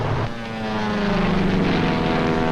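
A single-engine propeller trainer airplane flying overhead during a solo training flight, its steady droning engine hum loud and continuous with no talk.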